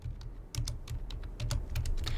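Someone types on a computer keyboard, a dense run of close keystrokes tapping out a name in uneven bursts, with no voices over it.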